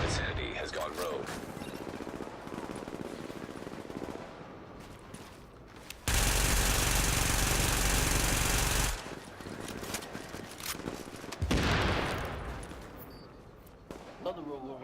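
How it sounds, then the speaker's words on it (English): Bursts of gunfire from a rogue agent in The Division, scattered shots with a long harsh stretch of steady noise partway through, and a person talking under the game sounds. "Another rogue over here shooting at me."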